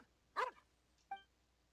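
Two quiet barks from a dog in a video game, one short sharp yap followed after a pause by a softer, higher yip, heard alone over a near-silent background.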